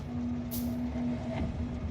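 A train rumbles steadily in the factory-building game Factorio, a constant low drone with a sustained tone and a brief hiss partway through, running alone without talk.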